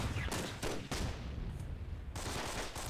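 Mortar strike explosions in Myth II: Soulblighter during a team battle, a dense run of loud blasts and gunfire-like cracks bursting in quick clusters, with a brief lull in the middle before more bursts.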